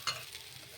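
Moong dal dosa cooking on a pan over a medium flame, a soft steady sizzle after a brief sharp scrape at the start, faint and close with no talking.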